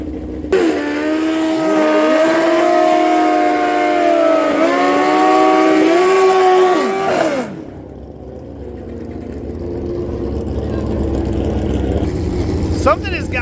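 Street drag bike at full throttle, a loud engine wail climbing through gear changes for about seven seconds before the power cuts abruptly, leaving low rumbling crowd and track ambience.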